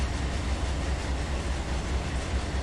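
A BNSF train in Run 8 Train Simulator crosses the desert at about 70 mph, with a steady low rumble and a faint rhythmic rail clatter running without a break.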